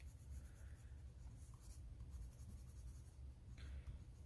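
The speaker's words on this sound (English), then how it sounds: "This pencil is tiny and I am pressing fairly hard to help start blending colors together" A tiny colored pencil pressed hard on paper while blending colors, giving a soft continuous scratchy rasp with faint strokes throughout and no talk.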